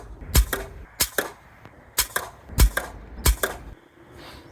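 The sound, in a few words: JSB pellets fired from an air rifle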